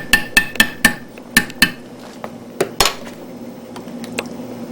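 Green beans dropped one at a time into a cooking pot during country home cooking, a series of sharp metallic clinks in a quick uneven rhythm, loud at first and then thinning into sparser, fainter taps.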